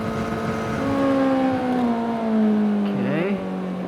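A 2025 Honda CBR600RR cruises in sixth gear at about 100 km/h, its smooth steady engine drone holding an even pitch under wind noise, then dipping briefly near the end.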